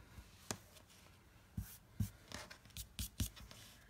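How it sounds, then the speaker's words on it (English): Small die-cut paper snowflake pieces pressed out of a cardstock sheet with the fingers, a scattered series of quiet close crisp pops and paper rustles with gaps between them. "And I'm just popping the little pieces out."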